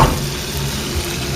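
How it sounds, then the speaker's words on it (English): Food fries in a pan over a fairly high flame with a steady, dense sizzle, loud and close, and no one speaks. "When you fry this, it smells so good."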